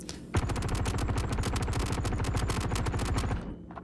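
Sustained automatic weapon fire in the space game Star Citizen, a loud, steady stream of rapid shots lasting about three seconds before cutting off abruptly.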